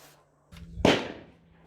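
A single sharp gunshot cracks out at an outdoor shooting session, close and loud, with a short decaying tail after a brief softer rustle.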